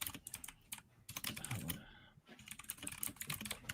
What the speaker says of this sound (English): I just did it because my keyboard is so fucking loud.